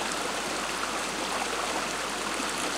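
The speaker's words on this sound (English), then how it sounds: "when I look down at this water running" Steady, close running water of a stream rushing continuously with a dense, even wash and no voices.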